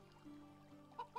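Chickens in the video game Medieval Dynasty give soft, quiet clucks, and two short, sharper clucks come near the end over a faint low background.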